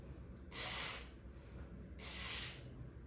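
A person imitates a pressure cooker releasing air during strength training, making two sharp breath hisses about a second and a half apart over quiet background.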